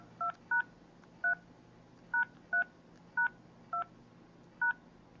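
Key tones from a phone calculator app, eight short electronic beeps tapped at an uneven pace, clean and moderately loud over a faint hum.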